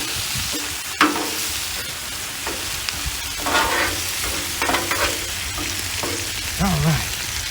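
Skirt steak sizzles steadily on a hot Blackstone griddle, a loud continuous frying hiss broken by scraping and stirring strokes of a spatula, with no talk.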